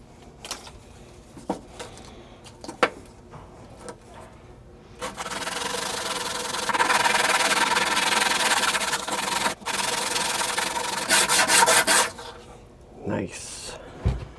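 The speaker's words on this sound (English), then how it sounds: "We'll sand this down too." Wood being sanded by hand during repair of a machine, a steady rasping rub that swells to a loud, sustained scrape for several seconds mid-way, with quieter knocks and handling before and after.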